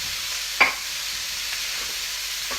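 Pork for sweet and sour pork sizzles steadily in pans, a constant bright frying hiss with a sharp clink of a utensil near the start and faint stirring scrapes, no talk.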